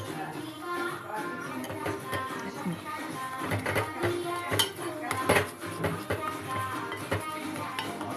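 Egg and oats mixture being stirred in a pan for a baby recipe, with repeated scraping and clinking of a utensil against the pan, close and steady throughout, over faint background noise.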